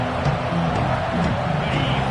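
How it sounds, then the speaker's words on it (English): Dense roar of a football stadium crowd during an NCAA game, making noise against the opposing offense on a fourth-down play, steady and loud throughout with no pauses. "This crowd trying to make life miserable for this offense."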